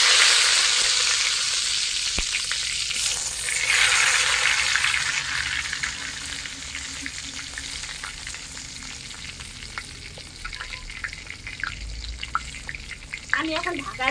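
Eggplant fries steadily in a pan in a Bengali home kitchen, giving a loud, continuous close sizzle with crackling pops and occasional stirring scrapes that carry on without a break throughout.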